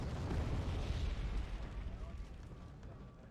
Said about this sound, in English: the artillery comes down at pretty much the perfect moment here, straight onto the Veeks